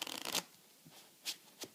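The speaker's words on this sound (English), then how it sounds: "riffling down before you pretend to have this pack ready to start shuffling" A deck of playing cards is riffled down in one quick fluttering burst, followed by a few soft separate card taps and slides, close and quiet with no talking.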